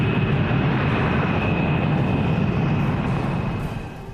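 A B-52 bomber in flight, a loud, steady broadband engine roar with a faint high whine, holding constant before easing off slightly at the end.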